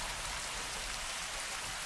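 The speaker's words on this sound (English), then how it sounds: "It's just the rain, I think." Steady rain pours through a dark scene in House of the Dragon, a dense, even hiss of drops on surfaces running unbroken and fairly loud throughout, with no voices over it.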